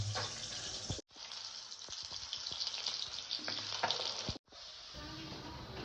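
Fish sizzles steadily in a pan of hot oil, loud and close, a continuous crackling hiss broken by two brief cuts.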